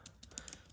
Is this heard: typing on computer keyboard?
yes